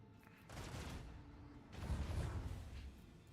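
Gunfire in the Rogue Trader video game: two bursts of muffled, booming shots roll out at a low level, the second heavier and more rumbling, with quieter ambience between.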